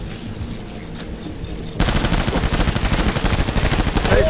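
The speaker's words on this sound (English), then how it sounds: "Taking fire." Sustained machine gun fire from the video game Death Stranding, starting abruptly after a low rumbling bed and continuing as a loud, rapid, steady burst of rattling shots through to the end.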